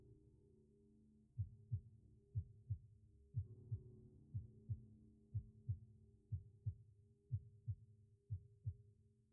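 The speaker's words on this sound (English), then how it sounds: "a subtle thrum pulsed in time with your heartbeat" Slow, steady heartbeat in a dark fantasy game, each beat a muffled low double thump repeating evenly over a faint continuous low drone, no voices present.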